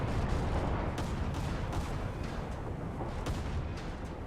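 Rapid, continuous booming of destroyer deck guns in War Thunder naval battles, a dense rumble with repeated punchy reports layered over constant low-frequency roar.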